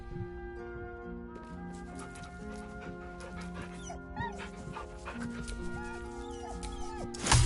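A dog whimpers and yips in soft, uneven bursts over a dense, busy background that swells briefly near the end; no one talks.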